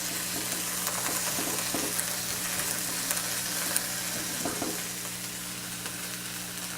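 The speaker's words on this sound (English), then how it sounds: "Now we're just going to stir this around a little bit" Vegetables stir-frying in a pan, a steady close sizzle with occasional scraping and clatter as they are stirred, no talking.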